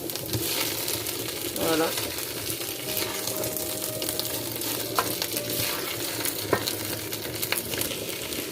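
Carrots tipped into a pot of vegetables for a sauté with chicken gizzards, giving a steady, moderate sizzle with clatters and stirring while a voice speaks briefly.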